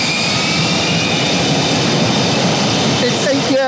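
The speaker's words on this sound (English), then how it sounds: "The F-35 jet, the world's most advanced and costly warplane." An F-35 jet engine roars loud and steady aboard a British aircraft carrier at sea, a broad continuous whine and rumble with a high tone gliding upward near the end.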